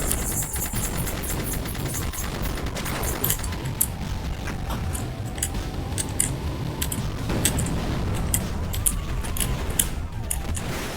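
A mecha's weapon fires in a video game in rapid, rattling bursts against a noisy, busy backdrop, with sharp repeated cracks through most of the stretch.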